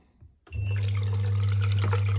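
Water gushes suddenly through a pipe into an Intex Graywood spa, starting after a brief quiet moment and then running as a loud, steady rush with a strong low hum underneath.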